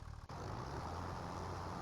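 A tractor engine in Farming Simulator 25 drones steadily and close, a continuous low rumble that holds at an even level after a brief dip near the start.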